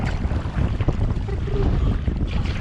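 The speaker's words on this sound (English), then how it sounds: "Wow, we're in the wind. Biggest waves of the trip so far." Strong headwind buffets the microphone on Moose Lake in early spring, with choppy waves slapping a canoe hull in a steady, loud, continuous roar, no voices.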